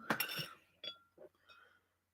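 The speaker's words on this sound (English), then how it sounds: "I better top up my glass, hadn't I?" Several bright glass clinks ring out close by as a glass is topped up with mead, a cluster of sharp chinks followed by fainter taps that fade to quiet.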